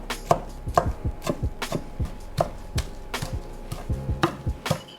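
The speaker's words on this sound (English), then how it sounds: "Just break out a nice sharp knife, and you want to chop it up into bite-sized pieces." Sharp knife chopping Italian sandwich fillings into bite-sized pieces on a board, a steady run of crisp, close knocks about two to three per second, loud and alone with no talk.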